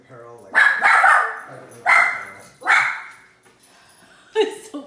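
A dog barks indoors in a home kitchen, three or four loud, close barks with gaps between them, then a shorter yelp-like bark at the end.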